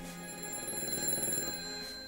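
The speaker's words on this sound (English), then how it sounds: "Seems like the phone's already ringing" A telephone rings continuously for about two seconds during a live call-in broadcast, a steady electronic ringing tone heard fairly close with no talk over it.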